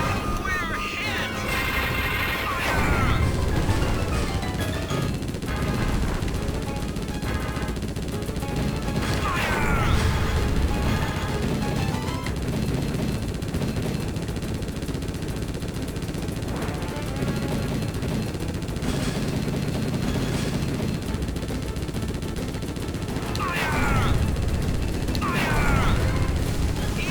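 Explosions and rapid gunfire from the Konami arcade rail shooter Operation Thunder Hurricane (1996), a dense, continuous barrage of bombing and crashes at a military base with gunboats, steady and loud throughout.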